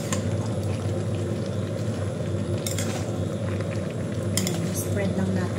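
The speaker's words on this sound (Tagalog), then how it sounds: "Haluin na lang natin ito guys, luto na yan" A spoon stirs igado, a Filipino pork and liver stew, in a cooking pot, giving steady scraping and clinking of metal over a continuous sizzle and bubbling, with a couple of sharper clanks.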